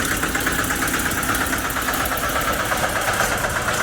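A tractor engine idles at a large pothole on a damaged expressway road, a steady loud rhythmic rumble with fast regular pulsing that continues unbroken throughout.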